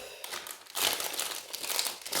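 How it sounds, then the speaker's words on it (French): Crinkling plastic wrap being pulled off a 40x60cm diamond painting canvas, a close, continuous rustle that grows louder and busier partway through, with no voices. "Petit déballage de la toile."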